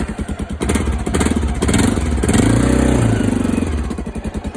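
A Honda XR 650L motorcycle engine runs loud and close, its single-cylinder thump pulsing steadily, swelling briefly as it revs, then settling back to a rhythmic idle.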